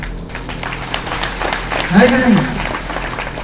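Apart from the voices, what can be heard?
audience applause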